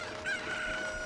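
A cucco chicken in the video game Zelda: Ocarina of Time lets out a short, thin, drawn-out squawk, fairly faint and alone over a steady game background.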